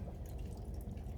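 Garden water hose pushed onto the drain of a Bullfrog A series hot tub with a poor seal, sucking air as water drains, a steady close low gurgling and bubbling with no voices.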